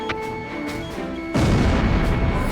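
A missile explosion destroys anti-aircraft artillery in Ace Combat Zero: The Belkan War, a sudden loud, rumbling blast that bursts in after quieter tonal game sounds and keeps roaring to the end.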